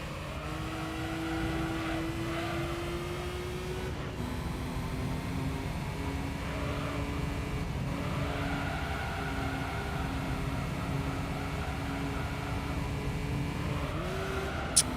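A car engine in Gran Turismo 3 during a Gold License test, a steady racing drone whose pitch climbs through the gears, drops sharply on downshifts and rises again, heard continuously with no talk.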